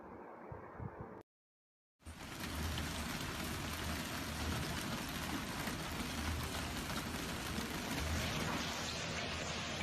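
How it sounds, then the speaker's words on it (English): Hailstones fall in a dense, unbroken patter after a brief silence, loud and close, mixed with snowfall; no voices. "Here comes the hail, guys."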